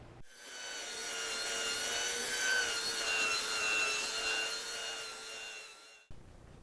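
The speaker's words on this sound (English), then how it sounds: "We're going to go ahead and hit this tabletop with the sander." A power sander works steadily across a wooden tabletop, a continuous close whirring grind with a bright tonal whine, lasting about six seconds before it cuts off.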